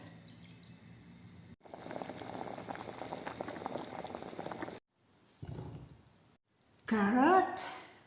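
Potatoes and carrots boil in a pot, a soft bubbling hiss in several bursts separated by brief silences, with a voice speaking over the final part.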